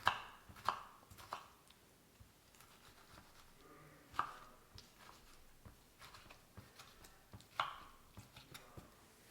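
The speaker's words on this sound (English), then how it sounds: "chopped in cubes, very small." A knife chops a medium tomato into very small cubes on a board, with sharp, irregular taps spread over several seconds, some louder and some faint, in a quiet kitchen with no talking.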